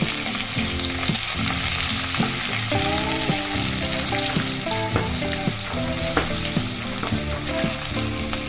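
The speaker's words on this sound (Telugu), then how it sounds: "ఇప్పుడు మనం కట్ చేసి పెట్టుకున్న పచ్చిమిర్చి యాడ్ వేసుకున్నాక దాంట్లోకి కరివేపాకు కూడా వేసేసుకోవాలి" Green chillies and curry leaves fry in hot oil with a dense, constant sizzle and crackle, close and loud, while a spoon scrapes and stirs the pan. A tonal melodic backdrop, probably music, plays underneath the whole time, and no one speaks.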